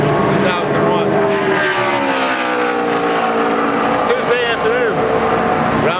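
NASCAR race cars drafting at Daytona during Daytona 500 testing, a loud continuous engine roar with rising and falling whines as cars pass, with a voice talking over it throughout.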